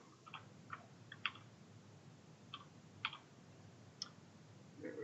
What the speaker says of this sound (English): You hear clicking because I am the note taker for the group.